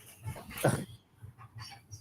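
Puppies whimpering and yipping softly in short, repeated cries close by, with a brief louder whine in the middle and a human voice faintly mixed in.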